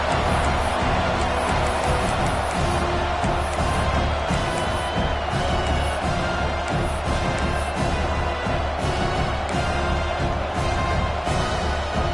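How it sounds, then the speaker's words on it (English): A packed stadium crowd roars and cheers during a Miami vs Notre Dame college football game. A dense, unbroken wall of noise holds steady and loud for several seconds. "Listen to this crowd noise. This stadium is vibrating."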